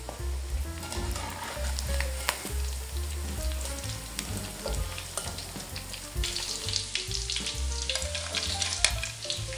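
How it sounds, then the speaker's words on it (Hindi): Chicken pieces fry in oil in a pan until browned, a steady close sizzle with occasional spatters and stirring clinks, no talking over it. "चिकन को मैं ब्राउन होने तक इसको मैं फ्राई करूंगी"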